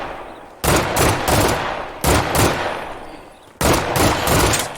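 Bursts of automatic gunfire from a drum-magazine gun in State of Decay 2, three loud, close rapid-fire volleys separated by short pauses, with no talking.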